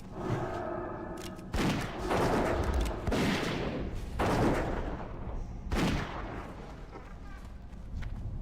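Sharp bursts of gunfire from a rogue character in World of Warcraft Classic Hardcore, several shots spaced across the stretch, loud and close, mixed with game ambience.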